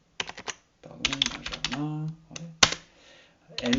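Bursts of keyboard typing as names are entered into the Nano text editor in Termux, quick clusters of clicks with pauses between, mixed with someone speaking French.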